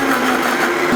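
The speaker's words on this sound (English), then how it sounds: "That's also going to go into the blender." Blender whirring steadily through coconut milk, lentils and nutritional yeast, a loud, close, unbroken motor drone with no talking over it.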